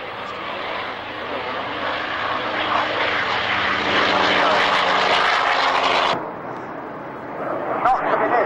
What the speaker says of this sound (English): you can put an airplane as big as that down in such a short space